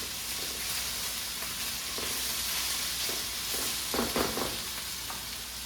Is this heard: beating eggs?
yes